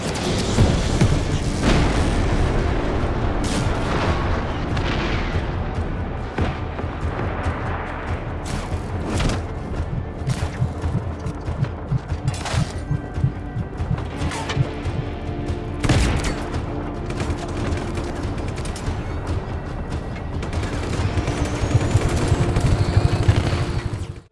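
Explosions and heavy gunfire tear through the open world of the video game Just Cause 3, with loud booms, rapid automatic bursts and thudding blasts layered densely over each other for the whole stretch, and no talking.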